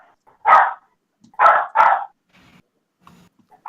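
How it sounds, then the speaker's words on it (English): A dog barks three times in quick succession, sharp and close, the last two nearly back to back, followed by faint scattered noises in an otherwise quiet room. "I could not hear that over your dog barking."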